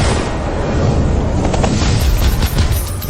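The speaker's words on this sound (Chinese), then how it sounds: "给我开火！" Heavy machine gun fire in a Chinese short drama, a dense, sustained roar of rapid shots filling the whole clip, loud and close with no talk.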